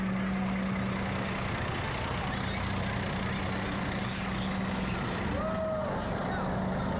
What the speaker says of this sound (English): it's always fun to see the fire trucks